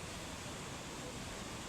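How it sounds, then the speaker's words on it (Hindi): Steady, dense rushing roar of a waterfall at Kedarnath in the Himalayas, continuous and even throughout, heard close and alone. "अब मैं यहाँ पहुँचा हूँ इस झरने पे"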